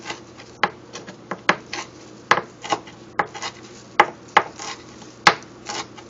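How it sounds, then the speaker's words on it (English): Knife chopping a large bunch of fresh parsley on a cutting board for sautéed garlic asparagus, irregular sharp close taps in quick uneven bursts, no talk. "I'm going to go ahead and chop that up"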